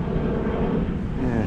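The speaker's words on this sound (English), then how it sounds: "Sorry about the plane." A propeller airplane drones steadily overhead by a fishing lake, a continuous broad rumble holding through the whole moment with no talk.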